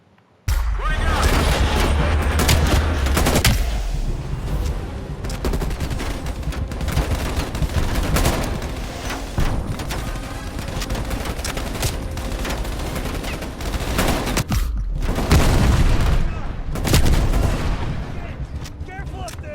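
Heavy, sustained gunfire and bursts of automatic shooting with booms in the video game Call of Duty Black Ops Cold War, loud and dense throughout, with voices shouting amid the combat.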